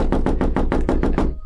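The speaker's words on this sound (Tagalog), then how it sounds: "May kumatok mula sa loob." Rapid, loud knocking on a door from inside a house, about nine evenly spaced hollow raps in quick succession, heard alone without voices.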